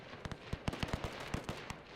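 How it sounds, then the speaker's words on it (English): Machine guns fire in a WW1 strategy game as the German Empire, a quick uneven burst of sharp, faint cracks spread over two seconds with no talking. "my machine guns is already starting to fire"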